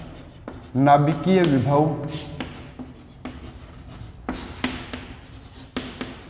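Chalk or marker scratches and taps on a board during a physics lecture, in quick irregular strokes up close, while someone speaks partway through.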